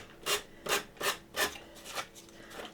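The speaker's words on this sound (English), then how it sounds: "I'm going to finish going around the edge of this with my nail file just so you guys don't have to listen to all that" A nail file rasps around the edge of a Dollar Tree Easter bunny decor piece, with about six steady, close scraping strokes in an even rhythm and no talking.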